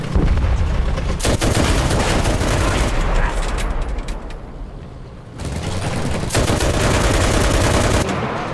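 Heavy gunfire in the Enlisted video game, loud and near. Dense bursts of automatic fire and overlapping shots run almost continuously, with a brief lull in the middle before the barrage resumes.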